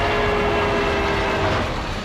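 A train running with a steady, loud broadband rumble and a faint sustained tone throughout, easing slightly at the end.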